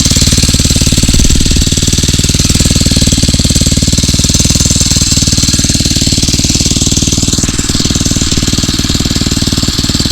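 A Phatmoto Rover 79cc motorized bicycle engine runs steadily close up, a loud continuous chugging with a rapid knocking rhythm throughout.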